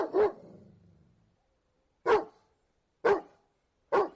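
A dog barks four times, sharp and close, the first bark echoing briefly into the room, followed by three evenly spaced barks with silence between them.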